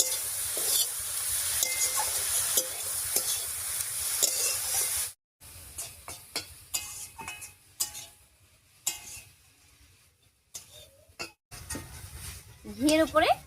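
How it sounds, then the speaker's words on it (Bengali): Grated carrots stirred in sizzling ghee with bay leaf, cardamom, cinnamon and cloves for carrot payesh, a loud frying hiss broken by scraping strokes, then a quieter stretch of intermittent stirring clicks and brief bursts. "ঘিয়ের উপরে গাজরটা দিয়ে 4-5 মিনিট রান্না করে নিয়েছি"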